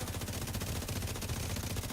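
Automatic gunfire rattles nonstop in a video game, a dense, rapid stream of shots that stays loud and steady throughout with no voices on top.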